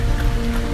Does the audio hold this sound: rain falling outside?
yes